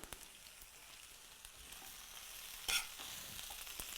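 Kale wilts in a hot pan with green onion and garlic, giving a steady soft sizzle, with a brief louder scrape of stirring partway through, fairly faint and close.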